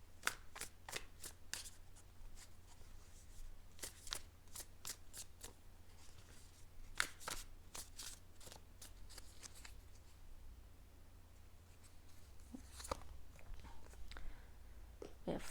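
Tarot cards being shuffled over and over in a steady rhythm of close, crisp riffles and soft slaps, going on continuously with no voices.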